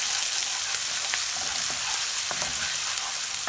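Ginger, garlic and green chili fry in hot oil with a bright, steady sizzle and occasional small pops and stirring sounds, close and without speech.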